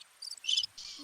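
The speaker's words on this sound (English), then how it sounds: "Oh, that's crickets." Crickets chirp in short, high, shrill trills, three quick bursts close together, clear against a quiet background.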